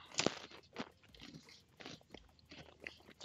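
Close, quiet crunching and chewing of Combos snacks, a sharp bite near the start followed by softer irregular crunches, with no voices.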